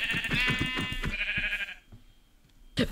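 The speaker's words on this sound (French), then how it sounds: "Bref, tu vois ce mouton" A sheep bleats in a series of loud, wavering, nasal cries close by, then fades into quieter background noise before a short final burst.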